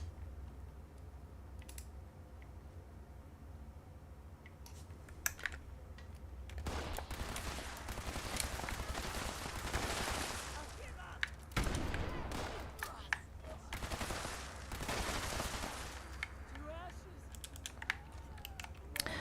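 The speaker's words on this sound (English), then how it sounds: "This weapon I'm using, not the greatest. Just a medic's explosive perception laser pistol." Rapid bursts of laser pistol fire from a medic's explosive perception laser pistol in Fallout 76, dense crackling volleys in two long stretches over a steady low hum, with faint talk underneath.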